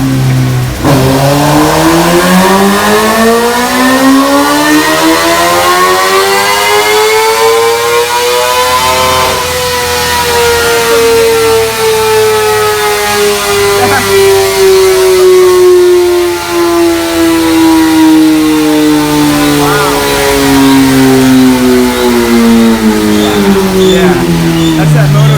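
A Ducati Diavel Carbon motorcycle with a MotoGP slip-on exhaust revs hard and close, its engine note climbing, dipping, then climbing again in a long, loud, sustained roar.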